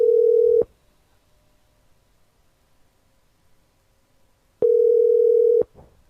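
A steady telephone dialing tone sounds for a moment, cuts off into near silence for several seconds, then returns for about a second before stopping again.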